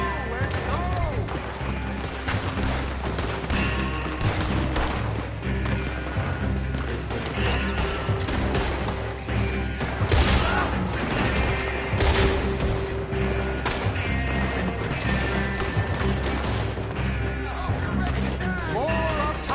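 Dense gunfire in a Red Dead Redemption 2 shootout, rapid overlapping shots and bursts ringing out over game music, with shouted voices mixed through the battle.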